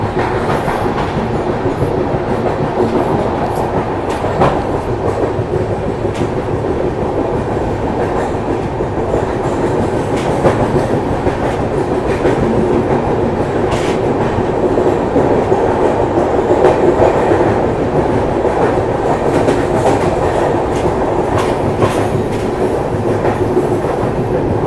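Interior of a Duronto Express first AC coupe on the move: a loud, continuous rumble of wheels on rails with faint rhythmic clicks and occasional rattles, steady throughout with no talk.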